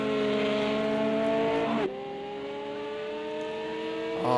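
A Porsche race car in a sim racing game at Monza screams at high revs, shifts up abruptly with a brief dip in pitch, then climbs again as it accelerates, close and dominant.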